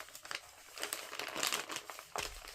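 Wrapping paper crinkles and rustles as a gift package is unwrapped, a run of irregular crackling bursts up close that swell in the middle and end on a sharp final rip.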